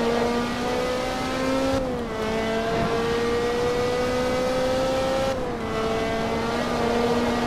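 A Ferrari F430 Challenge race car in Forza Motorsport 2 screams at high revs, with two quick upshifts that briefly drop the pitch before it climbs again, loud and close throughout.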